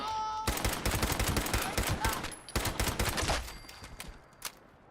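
Rapid bursts of pipe pistol gunfire in Fallout 76, a series of sharp loud shots fired in quick irregular succession, tapering off toward the end with faint background game sounds.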